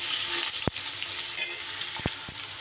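Pumpkin and other vegetables fry in a pan for a spinach dish, giving a steady, close sizzle with a few sharp clicks of a spatula stirring, and no voices.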